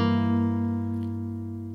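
Acoustic guitar chord fretted at the second fret with a capo, strummed once and left ringing as it slowly fades, close up with no talking.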